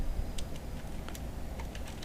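Fingers typing on a computer keyboard, a steady patter of light key clicks at an uneven quick pace over a constant low background hum.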